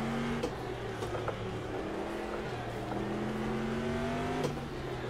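Car engine in a racing game lapping the Targa circuit, a steady droning whine with shifting pitch as the driver brakes hard into a corner and downshifts, loud and continuous.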